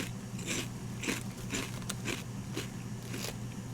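Crunchy salt and vinegar Mac's pork rinds bitten and chewed up close, a series of sharp, crackly crunches arriving every half second or so over a low steady hum.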